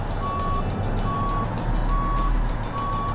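A truck in Euro Truck Simulator 2 backs up, its reversing alarm beeping four times at an even pace over a steady, rumbling diesel engine idle.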